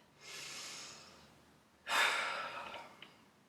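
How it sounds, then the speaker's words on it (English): A deep breath taken during an isometric squat hold in a workout: a long inhale followed after a pause by a stronger, louder exhale that trails off. The breathing is close and heard alone. "So take a breath."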